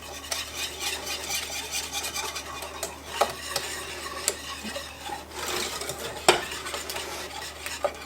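A spoon stirs eggs into pecan pie filling in a pot, a steady scraping and rubbing with occasional clinks against the metal and a faint sizzle, fairly quiet and close, with no talking.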